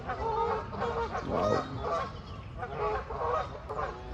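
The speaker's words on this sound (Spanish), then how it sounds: "tengo enfrente unos 4 Canada Goose que están peleando ahí entre ellos" Around four Canada geese squabble close by, trading repeated harsh, overlapping honks in noisy bursts, with one brief exclamation from a watching person.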